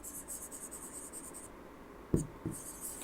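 Marker or chalk scratching rhythmically on a board during a classroom lesson, a run of quick strokes, a pause, then two sharp taps and more strokes, close and fairly quiet.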